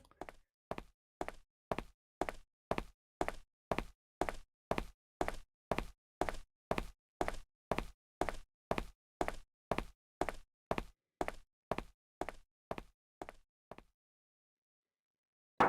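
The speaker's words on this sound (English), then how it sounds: "I hear the sound of somebody knocking on the door" Knocking on a door in the video game Last Window: a long, even run of about thirty sharp knocks at a steady rhythm, then silence, with no talk.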